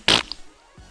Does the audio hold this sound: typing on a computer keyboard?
no